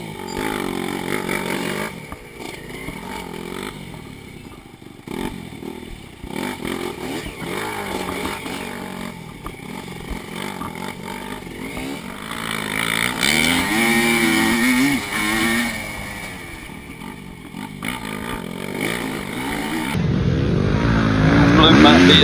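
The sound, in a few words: old motorcycle engine revving in a scrambler race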